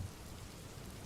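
Steady rain falls as ambience in a tabletop role-playing game session, a continuous dense hiss of drops with no voices.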